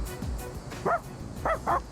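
A dog in Persona 3 Reload gives three short, close barks, one alone and then a quick pair, over a low hum of game background.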